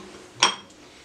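A single short metallic clink of a spoon against a bowl while mixing chicken with garlic paste and lemon juice for tawa fry steam chicken, one quick close tap with no talk.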